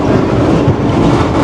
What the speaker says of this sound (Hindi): ठीक 11 बजे 5 अप पहुँची है लोधरा जंक्शन